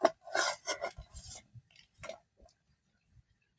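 Green chillies are sliced in half with a knife on a board, giving a run of close, crisp rasping cuts in quick bursts that thin out into a few faint taps.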